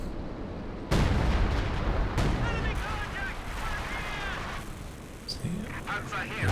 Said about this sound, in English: Double Howitzers just applying too much pressure here.